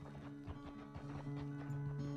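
Horse hooves clip-clop at a steady, unhurried walking pace in the Western video game Red Dead, with a low ambient hum running underneath and no one speaking over it.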